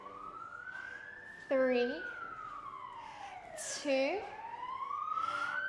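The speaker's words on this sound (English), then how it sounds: "Sorry about the ambulance." An ambulance siren wails outside, its tone sweeping up and down, with two louder bursts of yelping horn as it passes, while a woman counts down a Pilates exercise at home over it.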